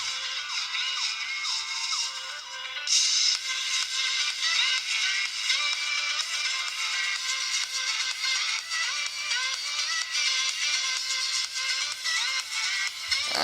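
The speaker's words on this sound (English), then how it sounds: "And there you go, that's the BT music." Music plays through the small Bluetooth speaker of a U8 smartwatch at maximum volume, thin and tinny but steady, with no talking over it.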